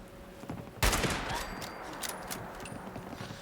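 A shotgun fires once in the post-apocalyptic video game Fallout 76, a loud sharp blast followed by a long rumbling tail and scattered background game noise.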